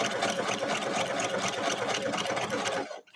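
A sewing machine runs steadily at close range while quilting stitches into a quilt at a 3.0 stitch length, with a fast, even mechanical whir that continues unbroken for several seconds before stopping abruptly.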